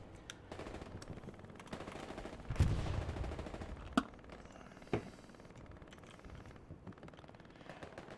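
Machine gun fire from the video game Hell Let Loose, heard in a 35-versus-35 competitive match. Distant bursts of automatic fire crackle over a busy battlefield backdrop, and a few sharper, louder shots stand out. There is no talking.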